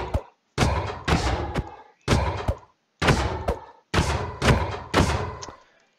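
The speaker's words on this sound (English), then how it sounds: "So the fastest is the diamond hoe with 4 attack speed, which means I can attack" A diamond hoe strikes repeatedly in Minecraft, producing seven or eight sharp, punchy thuds at a brisk, fairly even pace, each decaying quickly into short silences.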